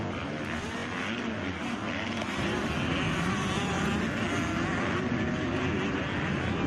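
Motocross bikes at a women's 12+ race at Loretta Lynn's, engines whining and revving loudly at a distance in a continuous drone as riders race past.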